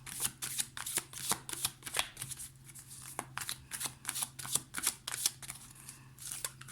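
A deck of angel tarot cards is shuffled close up, with a quick run of crisp, papery riffling strokes repeating in an uneven rhythm over a quiet background and no talking.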